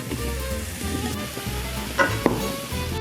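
Eggplant, celery and onions fry in olive oil in a pan, giving a steady close sizzle with a few sharper pops and stirring clatters.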